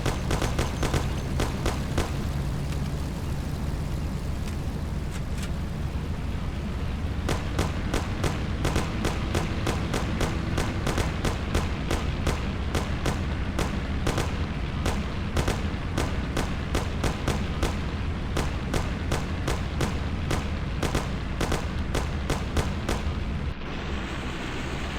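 Sustained gunfire in the game Mafia: The City of Lost Heaven, dense rapid shots crackling nonstop over a rumbling background for the whole stretch, loud and close, with no talking.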